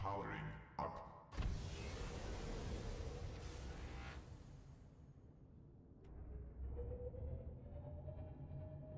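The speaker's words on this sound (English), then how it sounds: "Engine powering up." A vehicle engine powering up in Subnautica: a loud thump, then a broad roaring surge that fades and gives way to a rising whine over a low rumble.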